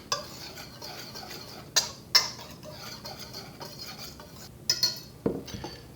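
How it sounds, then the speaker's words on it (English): A wire whisk mixes biscuit ingredients in a bowl, giving faint soft swishing punctuated by a few sharp metallic clinks and taps against the side, with no talking. "Okay, so let's mix that up. Got a whisk here."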